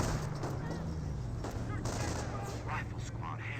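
Rapid gunfire and fusillades in the World War II strategy game Company of Heroes 1, sustained battle crackle with scattered louder shots under an ongoing commentator's voice.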